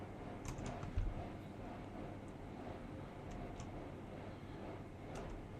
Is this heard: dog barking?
no